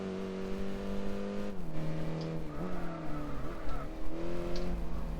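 Race car engines roaring and shifting pitch as they accelerate and drop through gears on the Nürburgring in Gran Turismo 4, with faint tire squeals, a steady close drone with no talking.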